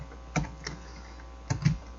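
Two short bursts of computer keyboard typing, a couple of crisp key presses each with a pause between, close and clear against faint background hiss.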